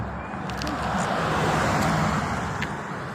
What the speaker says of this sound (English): Please excuse all the traffic.